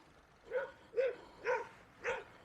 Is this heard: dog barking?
yes